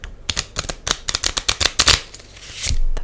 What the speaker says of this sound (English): I wanted to shuffle for you, but it's like way too loud